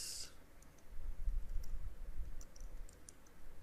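Light clicks from typing on a computer keyboard, sparse and faint, sitting close over a low background hum with no talk.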